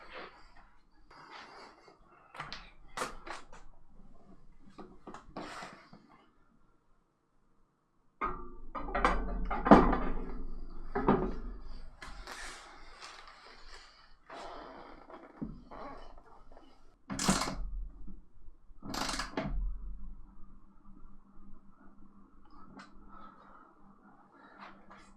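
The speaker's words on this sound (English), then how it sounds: "All that's left to do is put the seat on." Racing seat being fitted onto a Sim Lab P1 cockpit with a Next Level Racing Motion V3: scattered clunks, knocks and scrapes from handling the seat, with a few louder sharp bangs and short quiet pauses between bursts.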